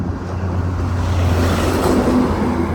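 Steady road traffic on National Highway 50 near Ilkal, Karnataka, lighter than on NH 52 with fewer trucks: a continuous low engine rumble and a vehicle drawing closer and passing, heard without speech.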